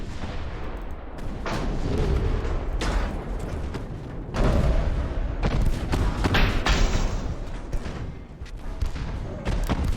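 Battleship guns fire in the naval game Ultimate Admiral: Dreadnoughts, a run of loud booming salvos and heavy thuds, one layered over another at close range.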